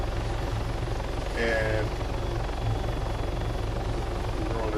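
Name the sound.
helicopter flying in the video game Arma 3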